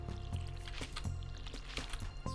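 Stardew Valley watering can pouring over pepper plants, a few quick splashy sloshes and gurgles repeating in a loose rhythm over soft game music, close and light.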